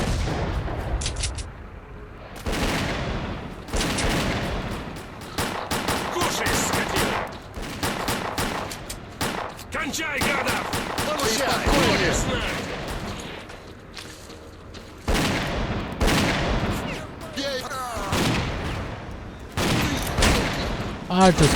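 Sustained firefights in S.T.A.L.K.E.R.: Clear Sky, set in the swamps, with dense rifle and automatic gunfire crackling in rapid bursts throughout and voices shouting between the shots.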